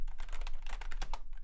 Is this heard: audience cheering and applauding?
no